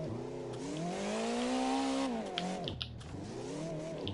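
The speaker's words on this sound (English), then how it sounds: "You see I'm drifting outside because I'm going into these turns too fast." Engine of a drift car in CarX Drift Online revving steadily with a rising and falling pitch as it slides through fast turns, loud and continuous, dipping briefly before climbing again.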